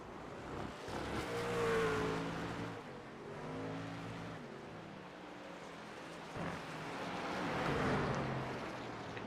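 Race truck engines in an iRacing truck series video game, a steady droning roar that swells and fades as trucks pass, with rising and falling engine pitch, moderate and continuous.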